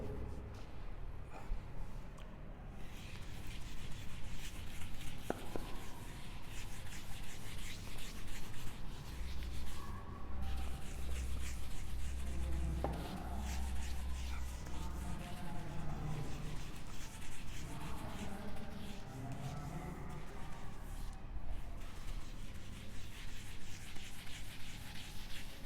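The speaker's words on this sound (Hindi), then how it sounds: "क्योंकि अब मैं इसको इरेज करूंगा।" Writing being erased from a board during a projectile-motion physics lecture: a steady, continuous rubbing and scrubbing close by, with speech faintly present.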